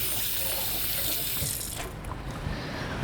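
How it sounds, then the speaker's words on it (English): Hands are rinsed under a running kitchen tap, a steady close hiss of flowing water spilling into a sink that shifts slightly in tone as the hands move through the stream. "I'm just going to give my hands a rinse so I can start packing it in."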